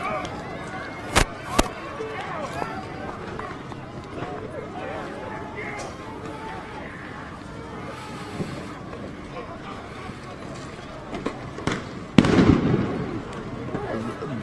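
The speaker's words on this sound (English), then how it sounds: "All these tear gas are being shot because of people that sort of breached the side a little bit" Tear gas canisters are fired at protesters in a crowded street, giving a few sharp pops and bangs, one louder burst near the end, over constant crowd noise and voices.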